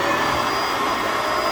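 A Bissell Powerlifter 2920 upright vacuum cleaner runs with a steady, loud broadband whir and motor hum, close by and continuous with no break.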